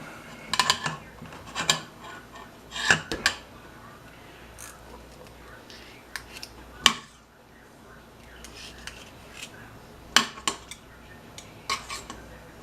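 A metal knife clinks and scrapes against electric mixer beaters while clearing off cheesecake batter, giving a series of sharp, irregular metallic taps and scrapes, some clustered and some spaced apart, close by over a quiet background.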